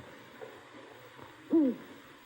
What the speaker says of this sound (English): It's our owl, sir.